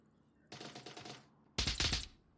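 Rapid bursts of gunfire in the Onward VR shooter during a competitive match, two loud volleys of several quick shots each separated by a short pause, with no talk over them.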